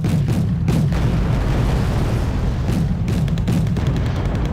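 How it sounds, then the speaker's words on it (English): Artillery fires repeatedly in Wargame Red Dragon, a steady run of heavy booms and rumbling blasts over dense continuous battle noise, loud throughout, with no voices. "artillery's firing again"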